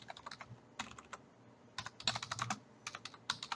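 Keys clatter on a computer keyboard in uneven bursts of quick taps separated by short pauses, close and fairly quiet, without any talking.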